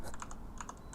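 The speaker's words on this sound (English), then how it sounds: "Everyone gets to listen to me frantically banging my keyboard." Quick, frantic bursts of typing on a computer keyboard, a rapid scatter of sharp key clicks at close range with no talking.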